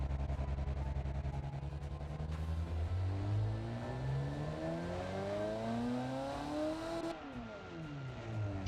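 A car engine in BeamNG.Drive, a wheelie drag racer, revs up toward 5,000 RPM, the pitch climbing steadily then falling back, loud and close with no talking.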